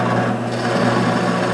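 Drill press running steadily and boring into a block of wood, a loud continuous motor whine with a low hum and a rough grinding texture, close and unbroken.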